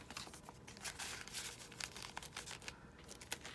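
A small paper envelope rustles and crinkles as it is handled close by, with irregular crisp bursts and a brief tearing-like scrape, no voices.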